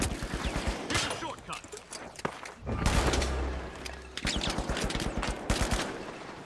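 Rapid gunfire in the shooter The Finals during a 1v1 tournament match: crisp repeated shots in quick bursts, broken by a louder, sustained blast in the middle, close and loud.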